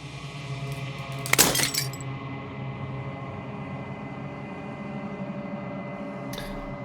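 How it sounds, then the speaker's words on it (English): Glass shatters in the video game Slay the Princess: one loud, bright crash and tinkle of breaking fragments rises over a steady, humming musical drone, and a faint glint follows later. "As the final fragment of the glass shatters"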